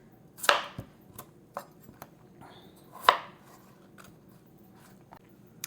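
A knife chops potatoes into smaller pieces on a cutting board for latkes, with sharp, sparse thunks at irregular intervals, two notably louder strikes among softer taps in a quiet kitchen.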